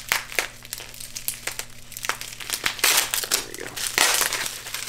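Packaging tape and bubble wrap being torn and crinkled while a knife is unboxed, with close crackling, crumpling and ripping that build in loudness over a steady low hum.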